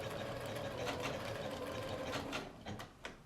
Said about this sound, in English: I'm going to stitch right down to the corner and leave my needle down